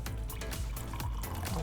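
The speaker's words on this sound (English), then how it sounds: "So I'm going to pour water into this one." Water poured into a wine glass, a close trickling stream with rising gurgles and small splashes, alone and fairly quiet.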